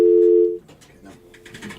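A steady, loud telephone dial tone on a radio call-in line after a caller drops out, cutting off after about half a second, followed by a presenter's voice speaking.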